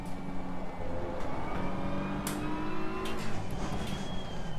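Race car engine braking on the Barcelona circuit in Assetto Corsa Competizione, a steady loud engine drone with falling harmonic whine as the car slows, continuous and close with no talking.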